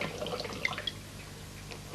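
Water trickles and drips into a bottle for a pet water dispenser, a soft close splashing that fades, ending with a sharp knock.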